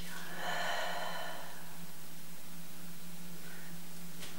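A slow breath out during a yoga session, a single airy, breathy exhale lasting about a second, close to the microphone, followed by quiet room hiss and a faint low hum.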